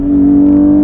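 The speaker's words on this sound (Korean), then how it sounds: "엔진 사운드가 상당히 듣기 좋게 귀에 착착 달라붙듯이 들리는데요" A BMW 840i Gran Coupe engine in Sport Plus mode, a loud, close, sustained steady drone with a strong tonal hum, briefly alone and without talk.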